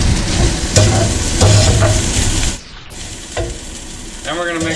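Chicken fried rice with veggies fries in a cast iron skillet, a loud, dense close sizzle with scraping stirs that drops abruptly partway through to a quieter crackle, then picks up again with a few clinks and a brief squeal near the end.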